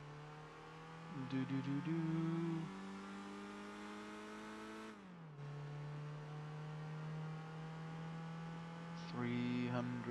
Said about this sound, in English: apparently we're driving a Megane, a Renault Megane